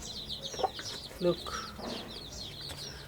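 A mother hen clucks in short, protective bursts close by, alongside other farm birds chirping, while a person speaks briefly over the sounds.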